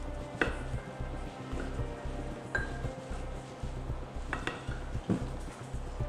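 Powder and water being stirred together in a bowl, a steady scraping with light clinks of utensil against the dish and a few sharper knocks, close and without talk.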